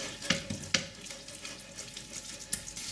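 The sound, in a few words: chilies and green peppers frying in hot oil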